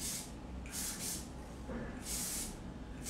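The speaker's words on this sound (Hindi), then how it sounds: "तो हम इसको अच्छे से शाइन स्प्रे करके मॉइस्चर क्रिएट करेंगे अभी" A shine spray mists onto hair during a bridal hairstyle in four short, close hissing bursts, two pairs separated by brief pauses, with no talking.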